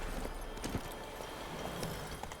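Hooves of Roach, a horse in The Witcher 3, clop in a quick, uneven galloping rhythm, fairly faint and close, over a soft ambient background.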